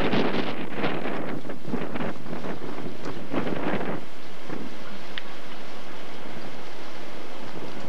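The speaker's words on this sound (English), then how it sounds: "Wind doesn't help it." Wind gusting across a microphone outdoors on a chilly day in Greece, loud rumbling buffets in the first few seconds that ease into a quieter steady blowing.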